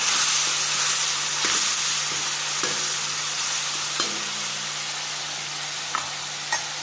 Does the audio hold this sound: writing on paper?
no